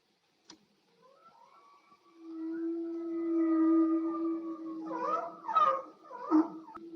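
A killer whale vocalizes in a quiet setting, first a long rising tonal call that holds steady, then several shorter sweeping cries, after a brief click at the start.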